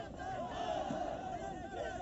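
A massed crowd of mock rioters shouts and clamours during a police riot-control drill by a PAC battalion platoon in Mirzapur, a distant, muffled roar of voices sustained throughout.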